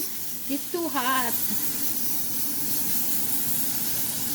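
Oil and butter sizzling in an overheated pan while an omelette is being made, a steady broadband hiss that holds throughout, with a brief voice rising over it near the start.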